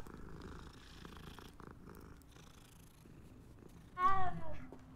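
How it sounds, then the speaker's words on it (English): Cats in the video game Hogwarts Legacy purr softly and continuously, and near the end one gives a short, clear meow. "Look at all the kitties."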